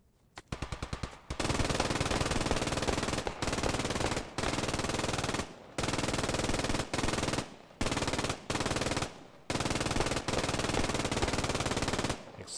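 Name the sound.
MG42 machine gun fire in video game Post Scriptum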